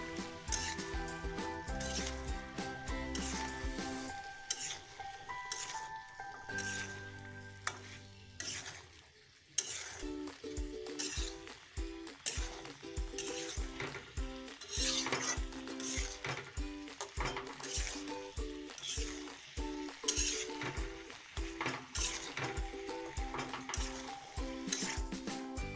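Fish with spices sizzles and fries in a pan while being stirred, with repeated scraping and clinking of a utensil against the pan over a low background hum, and no talking.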